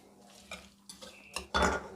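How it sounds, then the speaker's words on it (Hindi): A spoon scrapes and clinks in a bowl as potato and green and dry spices are mixed into milk for aloo paratha, with soft intermittent stirring that ends in a louder clatter. "अब ये सारी चीज़ें इस तरह हम दूध के अंदर मिक्स करेंगे, आलू भी"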